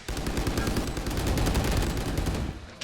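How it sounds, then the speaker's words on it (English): Rapid gunfire in a Valorant pro match, a weapon shooting through a wall, sounds as a dense, continuous burst of loud shots for nearly three seconds with no talk over it. "Leo's chunked out with the wall bang."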